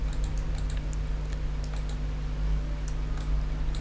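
Light, quick keystrokes on a computer keyboard over a steady low electrical hum, a short run of close, soft clicks with no talking.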